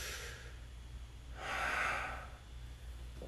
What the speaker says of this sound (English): Big inhale. And big exhale.